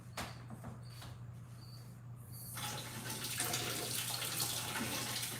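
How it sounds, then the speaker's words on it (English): Hot water runs steadily from a household tap, starting as a soft trickle and then swelling into a fuller, broadband gush that continues to the end, with a low steady hum underneath. "Okay, I gotta get some hot water."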